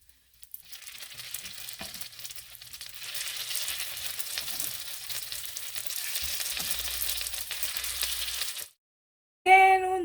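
Breakfast food, likely turkey bacon, French toast or pancakes, frying in a pan, a steady broadband sizzle lasting about eight seconds with faint low thumps beneath, then cutting off abruptly before a brief clatter.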